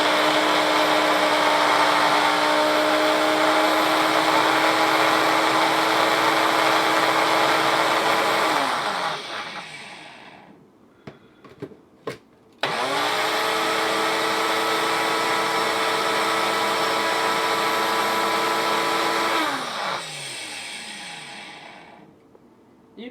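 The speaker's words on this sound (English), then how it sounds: "I'm going to blend all this up very quickly in my Ninja" A Ninja blender whirs loudly while blending dried rosemary, running steadily for about nine seconds, winding down to a pause with a few clicks, then roaring again for another long burst before spinning down.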